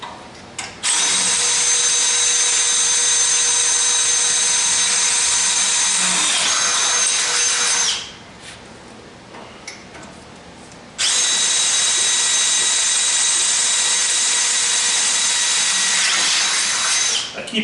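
Drill bits are sharpened in a Drill Doctor sharpener with a loud, steady, high grinding whine. It runs for about seven seconds, stops briefly, then starts again for another long stretch.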